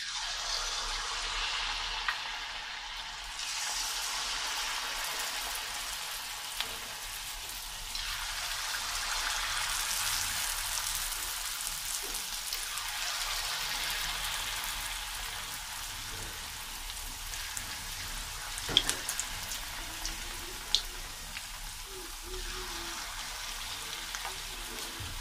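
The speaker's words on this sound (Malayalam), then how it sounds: "ഇനി ബാക്കിയുള്ള മാവ് ഇതുപോലെ തന്നെ നമുക്ക് ഫ്രൈ ചെയ്തെടുക്കണം." A yogurt batter snack fries in hot oil with a steady, dense sizzle and crackle that continues for the whole stretch, punctuated by a few sharper pops, with no one talking.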